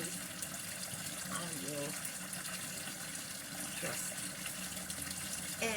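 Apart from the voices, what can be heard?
water running from a kitchen tap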